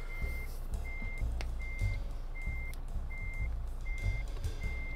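A truck in Euro Truck Simulator 2 backs up with a regular, evenly spaced reversing beep, about seven pips, over a low engine rumble and occasional clunks.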